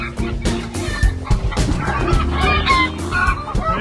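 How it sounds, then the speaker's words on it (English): New backyard chickens, upset after an owl attack, clucking loudly and agitatedly up close with overlapping squawks and a busy, irregular rhythm. "That's two of our new chickens. These guys are pretty upset over there."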